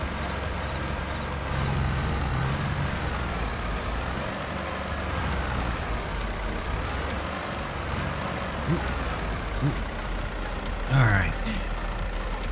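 Tractor backing up in Farming Simulator 22, a steady engine drone with faint repeating reversing beeps and a few knocks, a short sharp clunk near the end.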